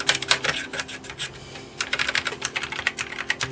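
Keys on a Commodore Amiga A600 membrane keyboard are pressed in quick irregular bursts of soft, close clicks, with a short pause in the middle before typing resumes.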